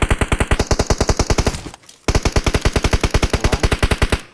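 Rapid automatic gunfire from a video game rattles in fast, even bursts, loud and close, with a brief pause partway through before the firing resumes at the same pace.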